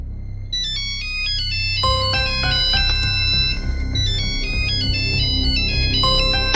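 Mobile phone rings with a loud electronic melodic ringtone, bright repeating chime phrases playing steadily and alone.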